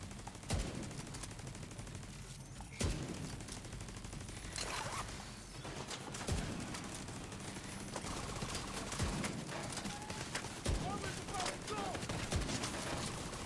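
Automated turret firing in The Division 2 game, rapid bursts of gunfire cracking repeatedly through a busy combat soundscape with steady background noise; voices talk intermittently.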